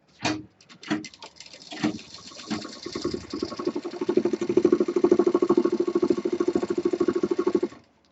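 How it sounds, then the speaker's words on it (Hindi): A sewing machine stitching the belt strap of a medium-size tour bag. A few short bursts come first, then a steady rapid run of stitching that is loud and close and stops abruptly. "बेल्ट की दूसरी साइड भी हम मशीन चला देंगे।"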